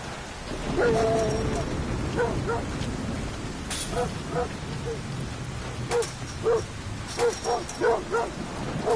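Dogs let out a series of short barks and whimpers in separate bursts over a steady rushing background, moderately near.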